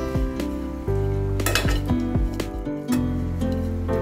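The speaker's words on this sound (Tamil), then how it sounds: "இப்போ இந்த மாதிரி பிளேட்டில் மாற்றி வச்சுக்கோங்க" A cooked dry-fruit laddu mixture being scraped from a pan onto a plate, with loud ringing metallic clinks and scrapes of a spoon against the pan over a faint sizzle, close and without speech.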